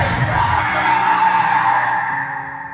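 Tires skid and squeal as a car pulls away from a petrol station, a loud sustained screech with engine noise that holds steady and then eases off slightly near the end.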